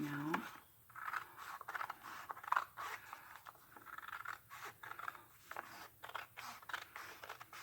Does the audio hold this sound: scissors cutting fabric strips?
yes